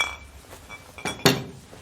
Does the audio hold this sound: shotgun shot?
no